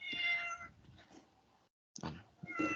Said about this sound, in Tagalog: Nag-iingay na naman yung pusa.